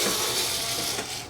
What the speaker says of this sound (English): let's get the screw gun out now. Take those ones out.